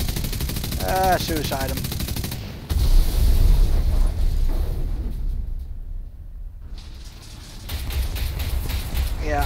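Machine-gun fire and heavy impacts strike the player's vehicle in War Thunder, a loud rattling burst followed by a booming hit and lingering rumble, with a brief spoken voice at the start.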